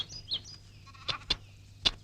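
A lamb bleats in a few short, thin cries, brief high calls spaced apart over a faint steady background hum, fairly quiet and close.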